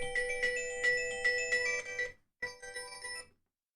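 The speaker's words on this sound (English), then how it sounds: "Forgot to put my phone on vibrate." A phone ringtone plays a bright, repeating electronic melody, loud and close. It cuts out for a moment and resumes briefly before stopping, with no one talking over it.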